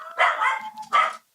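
A dog gives two sharp, fairly close barks, the second following after a short pause, with no voices.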